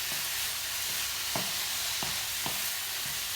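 Chicken and prawns seasoned with salt and pepper frying in a pan, a steady, close hiss of sizzling oil with a few soft knocks from stirring scattered through it.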